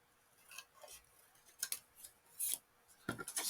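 Scissors cutting card by hand for a folded card, a close, quiet run of crisp snipping and rasping strokes in short irregular bursts, with no talk.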